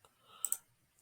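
Two quick, faint computer mouse clicks come close together while a Wix salon website is being edited. They sit against near-silence with a soft rustle around them.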